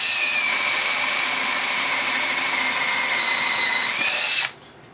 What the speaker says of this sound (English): Drills right through, no problem.